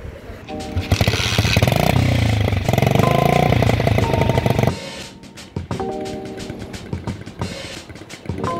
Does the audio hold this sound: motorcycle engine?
yes